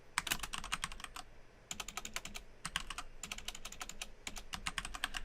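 Fingers type code on a computer keyboard in quick bursts of crisp clicking keystrokes, separated by short pauses, close by and fairly quiet, with no talking.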